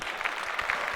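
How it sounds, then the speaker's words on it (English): Added applause and cheering sound effect, a brief burst of dense clapping heard alone and at moderate loudness. "Put in the clap and the cheer."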